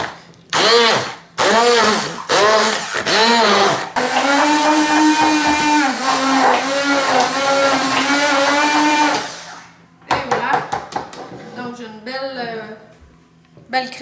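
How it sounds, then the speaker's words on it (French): A hand mixer blends strawberries with cottage cheese, a steady loud motor whir lasting about five seconds with talking before and after it. "Là, je vais prendre mon malaxeur à la main."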